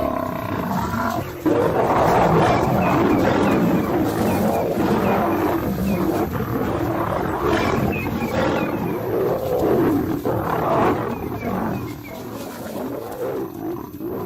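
White lions roar loudly and repeatedly during a night attack, deep overlapping roars and grunts from several animals filling the whole stretch at close range.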